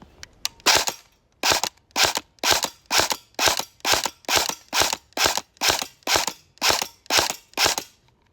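An airsoft gun fires at a target 10 meters away at about 11.7 rounds per second: roughly sixteen sharp, loud snapping shots come in a steady, evenly spaced rhythm after a few quicker opening pops, with no talking.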